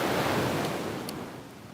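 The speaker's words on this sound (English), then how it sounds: "the waves are special today" Ocean waves breaking on a shore as a steady broadband wash of surf, fairly close and continuous, slowly easing off, with no voices.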